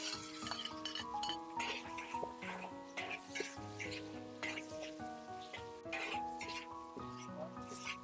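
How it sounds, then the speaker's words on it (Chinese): Blanched fiddlehead ferns stir-fried in hot oil in a wok with garlic, giving a dense, continuous sizzle broken by repeated scraping stir strokes, close and fairly loud, with no talking. "再把焯熟的蕨菜下入锅中"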